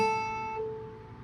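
A single faint, quickly decaying guitar note from a weak beginner pull-off on the high E string, thin and quiet, fading within a second.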